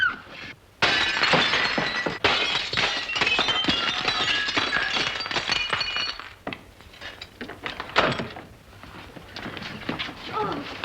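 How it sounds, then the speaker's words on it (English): A pane of glass in a door smashed in an old 1941 comedy scene: a loud crash and long rattle of falling shards and clinking fragments, followed by a second burst of breaking glass and lighter tinkling debris. "May I suggest, sir, that you break the glass?"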